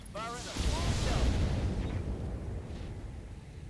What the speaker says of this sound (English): Firing a small shell.